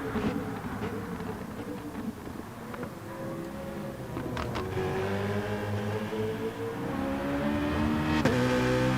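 Race car engine in the Gran Turismo video game during a World Cup qualifying lap, a steady rising drone that accelerates and climbs in pitch, with gear-shift spikes and growing loudness toward the end.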